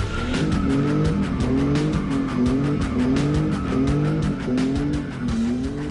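A drift car in Algeria slides with sustained, wavering tire squeal over a loud revving engine, the screech rising and falling in repeated arcs as it swings through continuous skids.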